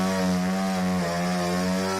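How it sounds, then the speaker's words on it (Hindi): An electric saw drones steadily as it cuts through fallen trees blocking a road after heavy rain, a loud close harmonic whine held without a break. "इलेक्ट्रिक आरी की मदद से पेड़ों को काटकर रास्ते"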